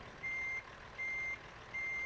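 A reversing truck in American Truck Simulator gives three evenly spaced electronic beeps, each about a third of a second long, steady and moderately loud over a low engine hum, with no talk.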